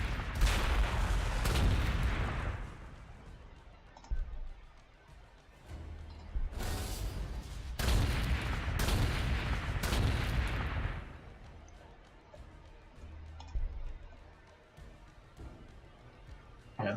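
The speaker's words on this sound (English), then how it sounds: "Artillery can do pretty good damage against the Praetorians. Let's at least soften them up with one shot." Artillery shells pound a city in Warhammer 40,000: Gladius, a string of heavy booming blasts with rumbling tails, several loud impacts clustered in the middle before fading into quieter low rumble.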